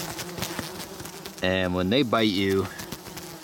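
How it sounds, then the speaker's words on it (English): Horse flies buzz close by around a tent in the Canadian wilderness on a hot day, one loud tonal buzz rising and bending for about a second, with someone talking over it. "The heat has really brought out these horse flies."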